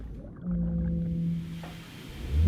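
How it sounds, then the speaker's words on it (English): A whale's low, drawn-out tonal call rises steadily from a distance and then fades, with a faint rumble of sea ambience around it and no voices. "they hear the whale song coming"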